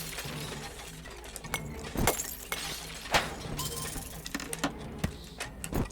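Glass shattering effects from The Swindle video game, several sharp bursts of breaking glass scattered over a steady hum of game ambience and machinery, with mechanical rattles between the crashes.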